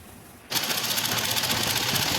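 A sewing machine stitching salwar fabric starts up after a half second of quiet, then runs at a steady fast rattle, close and loud, with no talk.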